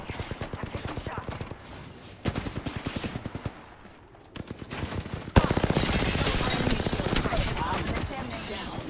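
Rapid bursts of video game gunfire crackle through a firefight, with dense volleys stopping and starting, then a louder sustained barrage near the end, mixed with speech.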